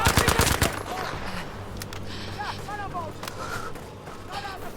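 Rapid bursts of automatic gunfire in the video game Battlefield 5, a dense volley at the start followed by scattered distant shots and game effects, with someone talking quietly underneath.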